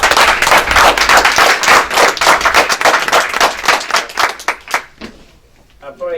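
A crowd claps steadily at an official installation ceremony for a coordination office in Philadelphia, with dense rhythmic applause that thins out and stops near the end, with a voice speaking over it.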